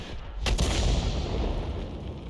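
Hummel self-propelled artillery gun firing in a tank battle video game: a single loud, close blast with a sharp onset and a long, dense rumbling tail.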